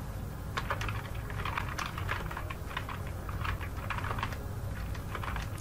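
Steady, fast typing on a computer keyboard while writing C code, with dense overlapping clicks and key taps close by and no talking.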